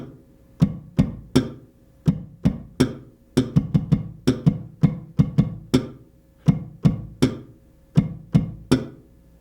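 Sharp percussive pops from the G string of an electric bass, struck with the index finger to imitate a snare drum, come in a steady groove of about twenty-five close, dry hits, each with a quick decay and no talking.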